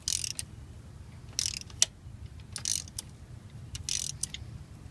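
A spark plug extraction tool cranks on a broken spark plug in a 2005 Ford F-150 5.4 engine, giving short bursts of metallic ratcheting clicks separated by quiet pauses over a low steady hum.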